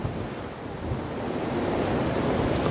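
Lake waves wash steadily at the Port Lands in Toronto in March, a continuous broadband surf roar mixed with wind buffeting the microphone, with no talking.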